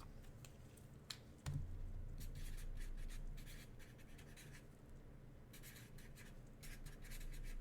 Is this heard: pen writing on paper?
yes